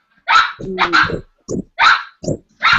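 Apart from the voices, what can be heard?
dog Charlie barking in the background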